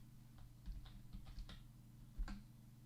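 Computer keyboard typing a chat message, a sparse run of soft, quiet key clicks at an irregular rhythm over a faint steady hum.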